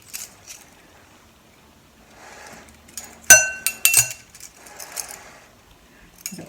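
Metal measuring spoons clinking together while baking apple cinnamon donuts, a few sharp bright clinks in quick succession near the middle, close and clear in a quiet kitchen.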